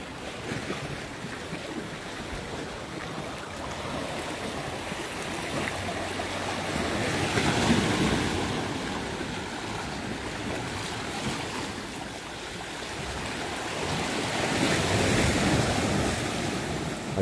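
Ocean surf surges along a beach at Fitts Village and Prospect, a constant broadband wash of waves that swells louder twice, mixed with wind buffeting the microphone and no voices.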